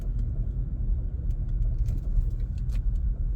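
A car creeps slowly around a tight spot with a low, steady engine rumble close by and a few faint light clinks over it.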